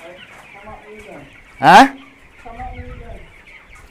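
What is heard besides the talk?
chickens clucking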